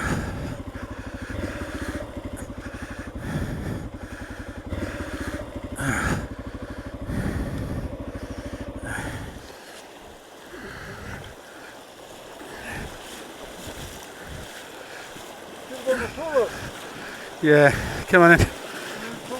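A Honda XR600R or Yamaha XT600 Ténéré motorcycle sits in river water during the Sandraiders rally in Morocco, its engine chugging loudly at first before giving way to splashing and sloshing water, with people calling out nearby.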